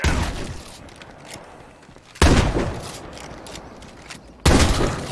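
A sawn-off shotgun fires in the zombie survival video game State of Decay 2. Two loud, separate blasts come a couple of seconds apart, each trailing off in a long echoing decay.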